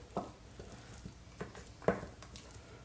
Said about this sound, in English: Turn to the spoon here, and our batter will be just about done.